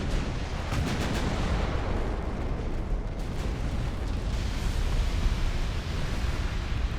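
Heavy naval main gun salvos from warships in Ultimate Admiral: Dreadnoughts, an 1890s hull battle, rolling together into a continuous loud rumble of booms and blasts with no voices.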